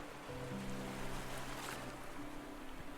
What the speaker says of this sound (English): I love the sound of the ocean, but the sound effects are a little loud.